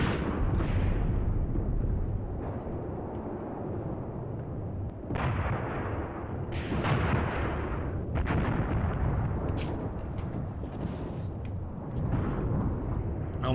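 Heavy artillery and gunfire from Graviteam Tactics: Volkhov Front, a WW2 battle game, rumbling continuously with repeated booming bursts and sharp cracks, loud and dense throughout.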